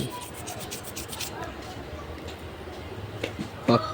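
A worn, deeply grooved part of an electric fan being filed or sanded by hand, rapid scraping strokes up close in the first second or so, then quieter rubbing with a few clicks and a brief sharp sound near the end.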